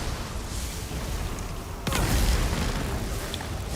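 A Cataclysm vessel explodes in The Elder Scrolls Online's Deadlands zone: a sudden, sharp blast partway through, followed by a deep, sustained rumble over steady combat ambience.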